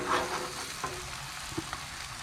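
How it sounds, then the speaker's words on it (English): Eggs slowly poured onto a hot Blackstone griddle at a campsite give a soft, steady sizzle, with a few faint taps and clicks over the low crackle. "Just slowly add the eggs in."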